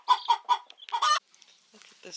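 Backyard chickens near a hatching egg cluck in a quick run of four or five close, loud calls, then go quiet with soft faint clucks and rustling afterward.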